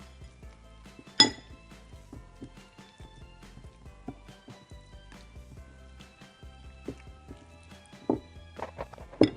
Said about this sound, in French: Et donc ensuite on va mélanger le tout pour faire une pâte homogène.